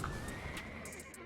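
A horse neighs in the fantasy game Black Desert Online: a sustained whinny over hoof clatter, loud and close, filling the whole short moment with no voices.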